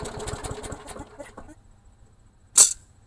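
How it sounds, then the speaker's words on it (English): An engine sputters and chugs roughly for about a second and a half, its firing uneven, then falls quiet before a sharp, brief burst near the end. "This engine is not running well at all."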